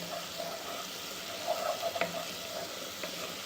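Garlic frying in olive oil as it is stirred in a pan, a soft steady sizzle with a few brief scraping clinks of the spoon, close and without talk.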